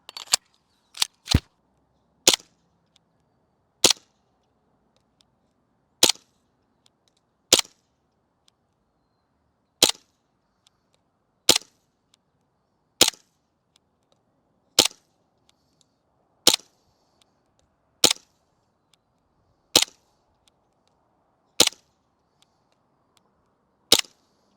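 An airsoft gun fires at a target 150 feet away: sharp, isolated cracks come one at a time with irregular gaps of a second or two, around sixteen shots in a quiet outdoor setting.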